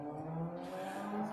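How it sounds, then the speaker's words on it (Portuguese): A motorcycle passes on a city avenue with a steady engine drone, then accelerates hard, and a hissing rush builds midway, close and continuous. "Essa moto passa aqui toda quinta-feira."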